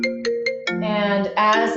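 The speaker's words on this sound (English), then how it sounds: "I'm so sorry about the phone calls going through my computer." A phone ringtone plays through a computer during a home Pilates session: three short repeated beeps, then a loud rising electronic melody. It sounds close and clear, with a brief spoken word at the start.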